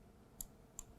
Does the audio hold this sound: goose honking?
no